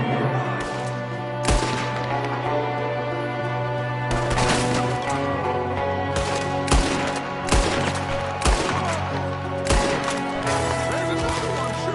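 Repeated bursts of gunfire ring out during an ambush in a PS4 video game, with shots from several shooters including one at a window, sharp volleys spread across the clip over a steady musical background.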